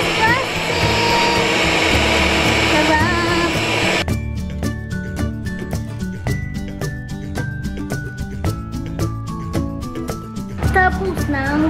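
A hand mixer whirs loudly through cream cheese and butter for red velvet cupcake frosting, running steadily for about four seconds, then giving way to a rapid train of sharp clicks and taps before the motor briefly returns near the end.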